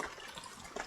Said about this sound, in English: Give me some water in my bucket.